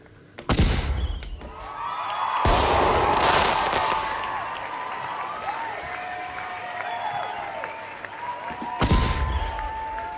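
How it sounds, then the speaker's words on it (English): Fireworks sound effect played to celebrate a new member on a live stream: bursts crackle and boom in several waves, with whistling rockets, fizzing sparkle and crowd-like cheering underneath. "Let's give you some fireworks."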